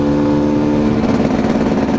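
A 2018 Gas Gas 300 supermoto motorcycle engine runs loud and close, a steady mid-pitched drone that roughens and pulses slightly as it revs, heard alone without talk.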